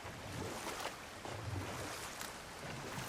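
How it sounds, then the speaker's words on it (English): Rushing waterfall in God of War Ragnarok's Vanaheim realm, a steady broadband roar of falling water that holds constant throughout, with no voices over it. "Waterfalls."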